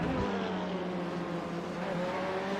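GT race cars, including a Ferrari and a BMW, lap Suzuka in the iRacing simulator near the Degner corners, engines droning at high revs with a steady, whining roar and no commentary in this stretch.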